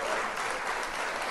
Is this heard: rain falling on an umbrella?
no